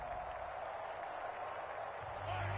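Stadium crowd at a Kansas City Chiefs football game, a steady loud roar of cheering and applause with a constant dense wash of many voices throughout.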